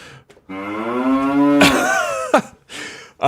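A single loud cow moo played as a sound effect during a live stream, a long rising then falling bellow that ends in a rough throaty grunt, with brief noises before and after.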